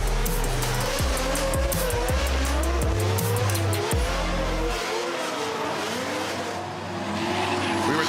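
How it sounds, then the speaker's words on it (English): Drift cars doing celebratory donuts at a Drift Masters 2024 event in Hungary, engines revving and bouncing up and down while tires squeal continuously, loud and close, with the engine roar dropping away toward the end under sustained tire noise. "Kevin Piscotty and Korpelinski are doing some celebratory donuts just to give us a little ambience"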